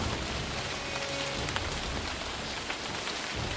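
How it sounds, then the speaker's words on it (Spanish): Heavy rain pours down without a break, a dense, loud hiss of drops beating on surfaces, with no voices. "empezó a llover muy fuerte"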